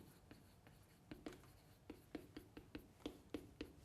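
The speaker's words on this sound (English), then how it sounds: "Okay, I'll write it down right now." Marker or chalk strokes on a classroom board make a series of short, irregular scratchy taps and swipes, quiet and close, with no talking over them.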